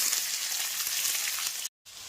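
Onion sizzling in a pan of hot oil with green chillies, a loud continuous crackling fry close by that cuts out abruptly for a moment near the end and then resumes.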